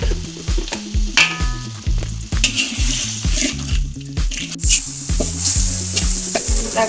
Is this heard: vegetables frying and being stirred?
yes